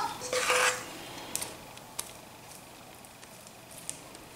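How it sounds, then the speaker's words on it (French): A spoon spreads and smooths chocolate ganache over a no-bake chocolate and walnut cake, giving a brief scraping rub near the start, then faint scattered clicks and light taps against a quiet background. "je vais répartir dessus la ganache au chocolat"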